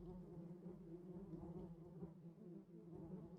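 A bee in the Minecraft video game buzzes steadily, a low droning hum that keeps up without a break, faint and alone with no voices.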